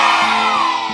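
A crowd of santri students at a national Santri Day ceremony shouting loudly, a brief, dense, sustained roar of many voices.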